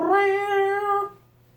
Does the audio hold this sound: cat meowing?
yes